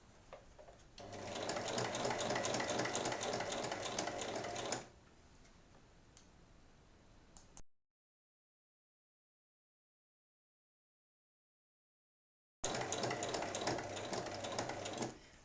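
A sewing machine stitches all the way around a lined fabric drawstring pouch, a steady fast mechanical whir running in two long bursts separated by a quieter pause and a gap of silence.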